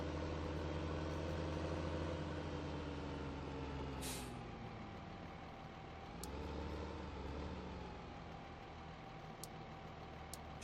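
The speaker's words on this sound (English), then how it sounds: "We're gonna get our forage wagon with this tractor" A tractor pulling a forage wagon in Farming Simulator 15 idles with a steady low engine drone throughout. A sharp air-brake hiss sounds once, and a few faint clicks follow.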